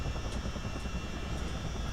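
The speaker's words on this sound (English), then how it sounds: "I think I might keep it so that we can listen to the shutdown sounds and watch the rotor slow down" Steady rotor drone of a CH-47D Chinook helicopter in a flight simulator, a continuous loud thrumming with faint rhythmic blade beats, constant and unbroken throughout with no talking.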